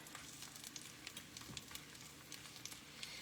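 Tennessee Pride sausage fries in a pan with a soft, steady sizzle, faint and continuous, broken by tiny scattered pops and crackles with no talking.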